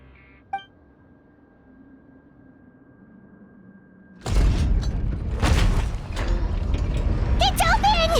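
Sluice gate valve mechanism grinding open in Genshin Impact: a sharp clank, then a quiet hum building until a loud rush of heavy machinery and flowing water surges in and continues, with rattling metallic detail.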